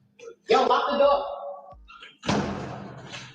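A door is pushed shut with a solid thud, followed moments later by a second heavy knock or latch sound, with a person speaking between the impacts.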